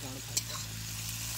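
Spices and meat sizzling in oil over a picnic cooking fire, a soft continuous frying hiss with a single spoon scrape, fairly quiet, with faint voices in the background.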